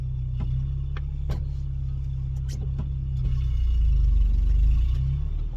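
A 1987 Toyota 4Runner with a 22RE four-cylinder engine runs at a steady low idle, close and loud, with a slight swell in rumble partway through and a few faint knocks and clicks on top.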